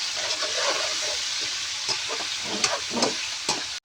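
Pakbet vegetables with tomato being sautéed in a pan give off a steady close sizzle and hiss, with a spoon or spatula scraping and stirring in a few short clatters toward the end.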